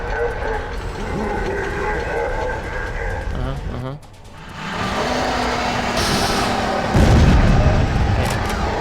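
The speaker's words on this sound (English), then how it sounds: "Oh hey, Panzerfaust." A Panzerfaust fires and explodes in a video game: a heavy boom bursts out of dense, continuous game noise after a brief dip, with a rumbling tail.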